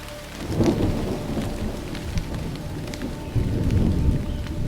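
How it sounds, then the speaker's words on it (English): Thunderstorm with heavy rain over a remote Indonesian ocean setting, steady downpour hissing on surfaces while low rumbles of thunder roll through, swelling again near the end; no voices. "We woke up to a stormy day"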